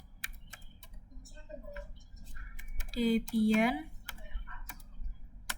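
Typing on a computer keyboard while entering an SSH command to a router: quick, irregular key clicks running under a voice speaking.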